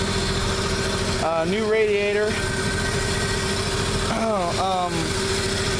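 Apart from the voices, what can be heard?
rebuilt 235 inline-six engine of 1949 Chevy pickup idling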